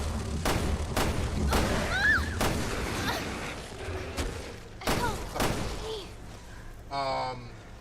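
Gunfire in the video game Resident Evil Revelations 2: several loud, sharp shots spaced irregularly with booming thuds, followed by a brief voice near the end.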